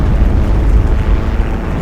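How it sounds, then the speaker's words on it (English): A bomb dropped by an aircraft explodes in the World War II shooter Heroes & Generals, a loud, sustained low rumbling blast that fills the clip without a sharp onset. "Okay, I guess it's where that plane bombed."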